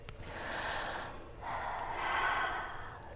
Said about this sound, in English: Everyone, let's take a giant deep breath.